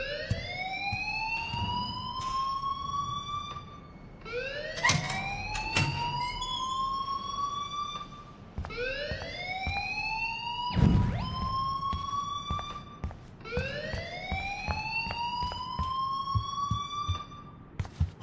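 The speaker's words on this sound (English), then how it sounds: "please turn off that alarm since that's your job" A rising, swooping electronic alarm from the video game Life is Strange repeats in four long cycles, fairly loud and steady, with a brief thud partway through and no talking.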